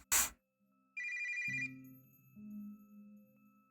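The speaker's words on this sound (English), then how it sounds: "Lily took out her phone and saw that it was Azura calling." A phone rings in the Blood Lily Ghoststories game, a short electronic ringtone after a brief sharp sound at the start. Two-tone chiming notes follow, fairly close and clear against otherwise quiet background.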